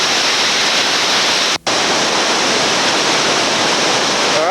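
White water river rapids at Double Z Rapids in West Virginia, a loud, steady rushing roar of churning water close by, broken only by a split-second dropout midway.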